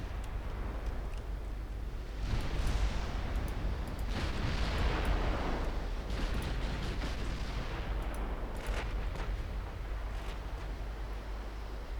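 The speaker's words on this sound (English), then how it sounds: "enemy battleship fire" Enemy battleship gunfire in the naval game Ultimate Admiral Dreadnoughts booms in several heavy, rumbling salvos that roll over a constant sea-like wash, moderately loud, with no voices.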